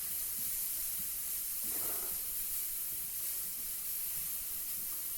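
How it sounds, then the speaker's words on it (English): Onions and peppers sizzle over high heat to char, a steady dense hiss close up throughout, with a brief louder crackle from stirring partway through. "onions and peppers a little stir here. I'm cooking them on high heat because I do like a char on them"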